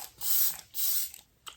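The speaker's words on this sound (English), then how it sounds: "I'm going in with the e.l.f. Dewy Coconut Setting Spray." An e.l.f. Dewy Coconut setting spray pump bottle misting the face in two close, breathy hisses, each about half a second, followed by a brief fainter spritz.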